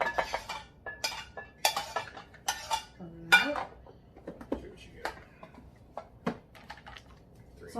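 Rice being scooped into meal prep containers: a series of sharp clinks and scrapes of a utensil against dishes, irregular and close, with a person talking intermittently.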